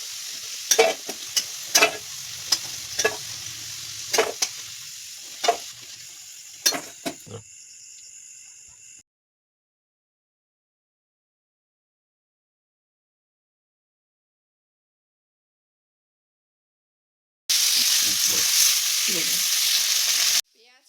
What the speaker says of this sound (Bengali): পেঁয়াজ আর টমেটোটা আমার ভেজে নেওয়া হয়ে গেছে।